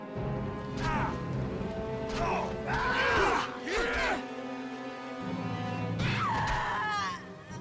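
Pained screams of a character struck by a battle axe in the Neverwinter Nights video game, several loud anguished cries over clashing combat noise, close and intense.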